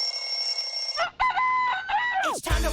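A chicken-like crowing call rings out on its own, a steady held tone that breaks into a few shorter rising and falling cries, ending in a bright swooping sweep with a low thump.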